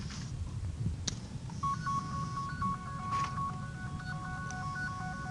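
A telephone goes off with a spam call, faint electronic tones and beeps sounding in a steady repeating pattern over a quiet, low background hum, with no voices.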